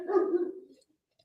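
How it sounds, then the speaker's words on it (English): A single short bark from Milo the dog, fairly faint and somewhat distant, trailing off into silence. "we had to get a few barks in from Milo"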